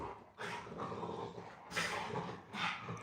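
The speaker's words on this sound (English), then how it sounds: "If y'all hear these dogs, I'm sorry. They in there wilding the hell out." Dogs growl and bark in loud, rough bursts from another room, with a heavy snarling stretch at the start and sharper flare-ups at about two and three seconds, crowding the whole clip.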